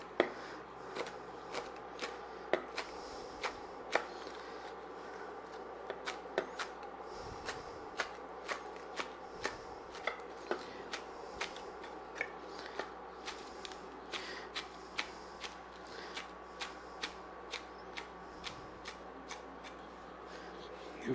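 Green onions being roughly chopped with a knife on a cutting board, a steady series of crisp, close taps spaced about half a second apart, with faint background hum.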